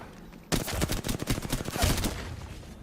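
Rapid automatic gunfire in a shooter video game starts abruptly after a short quiet moment and continues as a loud, close, fast-paced string of shots for over two seconds.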